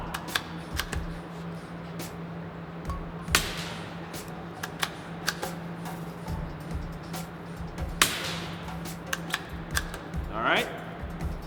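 A suppressed .22 rifle from Freedom Armory Machine Works fires a string of CCI standard, subsonic and quiet rounds, giving sharp, muffled cracks at irregular intervals over steady background hum.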